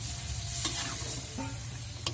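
Stirring spicy squid and shrimp sambal in a wok, Aceh style, with scraping strokes and a steady sizzle underneath, a few sharp clacks of the utensil against the pan.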